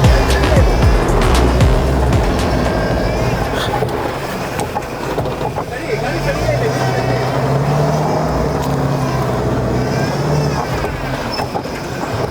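An off-road vehicle drives over a rough track, its engine a continuous loud rumble with rattling and jolting noises throughout and engine pitch rising and falling.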